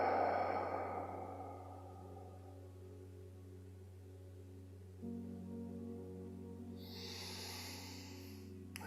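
Another slow, deep breath during a guided heart meditation, a long audible sigh-like exhale up close at the start, then quiet, followed by a soft breathy inhale over a constant low hum.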